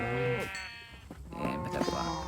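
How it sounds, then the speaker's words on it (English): A pink sheep bleats in a video game, with a couple of short, wavering cries standing out clearly over quiet game background sound. "Now I got a pink sheep."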